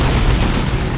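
A las cannon turret is destroyed during a Dawn of War 2: Retribution 2v2 battle, heard as a dense, loud rumble of explosions and gunfire with no break.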